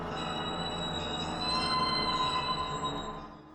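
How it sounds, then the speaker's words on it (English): Unsettling sustained metallic screech from the horror game Distraint, like a nail dragged across metal, with high whining squeals over a dense grinding rumble, steady and loud for several seconds before easing off. "I can describe it as someone dragging a nail on a piece of metal"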